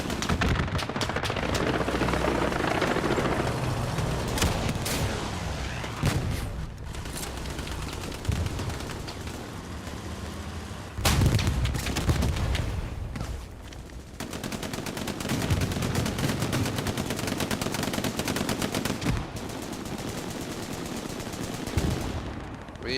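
Sustained gunfire in the World War II shooter Hell Let Loose: dense machine-gun bursts and rifle shots with heavy booms, loud and continuous, the firefight rising and falling over the whole stretch.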